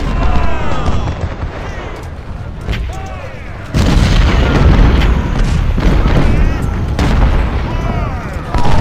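Heavy artillery booms in Ultimate General: Civil War's Malvern Hill battle, loud and rumbling, overlapping in irregular volleys with dense battlefield din and faint distant crackles throughout.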